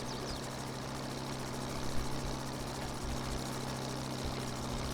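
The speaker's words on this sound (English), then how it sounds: "this tractor is a McCormick W9, W4" Steady engine drone of a McCormick W9 tractor in a farming video game set in the early 1950s, a continuous low hum with a constant tone, mid-distance and unchanging, no voices over it.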